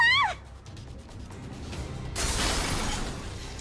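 Edges of shattered reinforced glass kicked out in a visual novel game, a brief high chirp at the start, then a hush and a loud crunching burst of breaking glass that fades out slowly.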